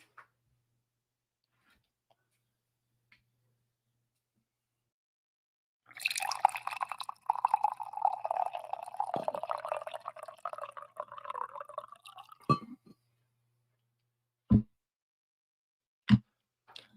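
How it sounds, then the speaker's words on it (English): Coffee pours into a cup as a steady, faint liquid stream lasting several seconds in an otherwise quiet room, ending with a few isolated drips and small knocks. "I gotta pour some coffee here."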